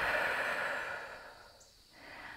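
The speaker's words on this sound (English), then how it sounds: "Just take one deep breath here." One long, slow deep breath during a yoga hip-opener: a soft, breathy airy rush that gently fades, pauses briefly, then returns as the exhale begins, close and quiet with no talking.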